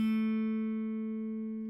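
A single guitar A note played on the second fret of the G string rings out clean and alone, sustaining steadily and fading slowly over nearly two seconds.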